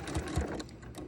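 Brief, close burst of rapid mechanical stitching from a sewing machine running along an apron seam, with a couple of low thumps near the start.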